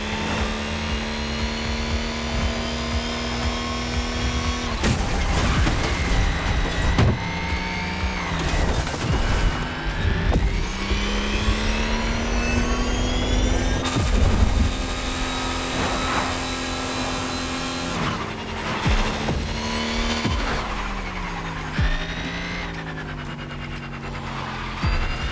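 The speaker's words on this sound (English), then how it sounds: "Today, it's going to be the M5 Drift Edition for you." A BMW M5 Drift Edition drifts in The Crew Motorfest, its engine roaring loud and continuous for the whole stretch, the pitch sweeping up and down through gear changes and throttle blips.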